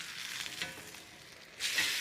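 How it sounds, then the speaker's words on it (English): Steaks sear in a hot cast iron skillet, a soft continuous sizzle close by that swells louder near the end, with no voices. "Searing really does help adhere the seasonings, the salt and pepper, to the meat."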